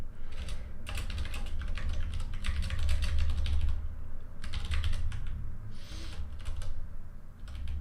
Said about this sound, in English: Bear with me for a second while I type out some code.